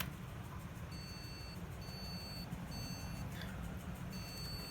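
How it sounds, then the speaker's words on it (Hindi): A PC's internal speaker beeps at startup during a no-display fault: about four short, high, thin beeps at steady intervals, faint over a constant low hum and hiss. "अभी मैं मेरा पीसी चालू करता हूँ फिर से, तो बीप साउंड बजेगा"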